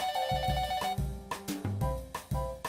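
A telephone rings in a diner video game, a melodic electronic ringtone pattern repeating in quick bursts, close and clear with no talking over it.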